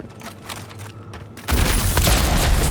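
The Delon gun in the Avowed video game fires, quiet scattered thuds giving way to a sudden loud, dense burst of gunfire and booms that continues to the end.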